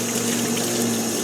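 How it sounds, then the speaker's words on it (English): A Costway portable washing machine fills with water poured over the clothes inside, a steady rushing flow with a low even hum throughout. "you're actually putting the water right on the clothes instead of just in the back kind of dribbling down"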